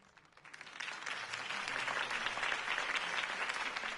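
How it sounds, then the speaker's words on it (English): Crowd applause follows a campaign speech in a Batman video game, rising after a quiet start into steady, sustained clapping. "could have heard that applause"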